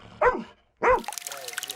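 Joy, a rescue dog trained to search wreckage after Russian strikes for survivors, gives two sharp nearby barks, followed by rustling, trickling background noise.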